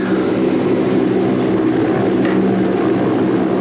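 A helicopter getting ready for a training mission in Waco, Texas, heard as a steady, loud rotor and engine roar that stays constant throughout.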